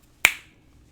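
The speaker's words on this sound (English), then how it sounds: "When I snap my fingers, a number will pop into your mind" One crisp finger snap, close and sharp, standing alone in near silence.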